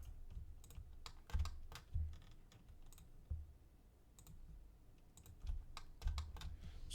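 Keyboard and mouse clicks from alt-left-clicking while building a 3D character, a quiet, irregular run of crisp taps and clicks, some in quick pairs, close up with no talk.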